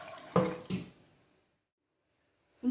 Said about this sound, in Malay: Sekarang saya nak tapiskan